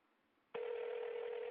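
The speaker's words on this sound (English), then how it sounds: "I'm sorry, we must have got disconnected here." After half a second of faint line hiss, a steady telephone dial tone starts abruptly and holds loud and unbroken on a phone line left open after a call dropped.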